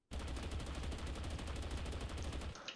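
An AUG assault rifle in the game TABG fires a sustained fully automatic burst, rapid even shots packed densely together, loud and continuous for about two and a half seconds before stopping.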